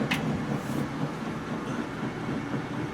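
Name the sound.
laundromat washing machines running loudly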